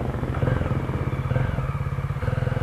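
A Voge 300 AC motorcycle engine idles or runs steadily close by, a loud, rapid, even thumping pulse with a full low tone and no talk over it.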